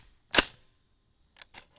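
A single sharp rifle shot from a 300 BLK with a 10.3-inch Hanson Premium barrel, fired at 50 yards outdoors, a sudden loud crack that fades quickly, followed by two faint metallic clicks.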